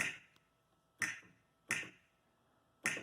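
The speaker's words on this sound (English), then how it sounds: "So B29 in the Korg sequence, track 15, was just those snaps right here." Four sharp finger snaps from a Korg 01/W synthesizer sequence, spaced unevenly about a second apart, crisp and close with short decays and no other sound.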